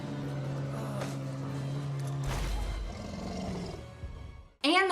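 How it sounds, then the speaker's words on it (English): The Archdemon, a dragon in the Dragon Age video game, gives a loud, sustained, low roar with a guttural rumble that swells midway, then cuts off into a brief shrill screech at the end. "their roar also stuns all their enemies"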